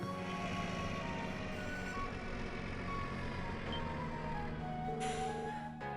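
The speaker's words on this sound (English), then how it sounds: "Whoa! That car's ginormous! This type of car is called a bus, KeA." A bus pulls up in the video game Trails from Zero, its engine hum steady beneath repeated tonal beeps and a brief hiss of air near the end, with no talking.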